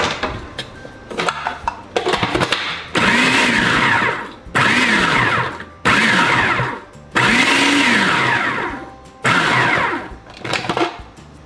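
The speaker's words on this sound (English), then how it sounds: "We're just going to take this, throw it in our food processor, and just process it a little bit lightly." Food processor pulsing a batch of garden tomatoes for sauce, running in several loud bursts of a few seconds each with short pauses between them, no talking.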